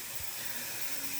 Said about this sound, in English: wait for this thing to finish, letting out some of the steam